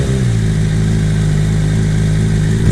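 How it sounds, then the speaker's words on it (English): A Suzuki GSX-R 600 sport bike engine runs loud and close at a steady idle with a constant low rumble throughout, no pause or revving. "we're going to just give the bike a quick little start"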